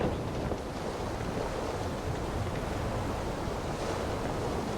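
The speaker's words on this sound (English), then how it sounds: "the beautiful ocean" Ocean waves in the game WILL: Follow The Light, a broad, steady wash of surf mixed with wind, loud and continuous with no distinct breaks.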